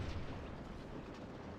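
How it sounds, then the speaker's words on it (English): Cannon fire in a Civil War battle video game, a dense, continuous low rumble of booming artillery rolling together, loud and close throughout with no distinct separate blasts. "Just the guns, the cannons."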